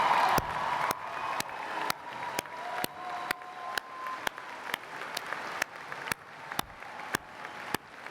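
A graduation ceremony audience applauds the veterans in steady, sustained clapping that fills the hall, punctuated by sharp rhythmic thumps roughly every half second throughout.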